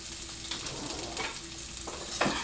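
Sausage and garlic frying in a pan, a steady broadband sizzle that runs throughout with a few stirring scrapes and brief bursts, close and moderately loud, no voices.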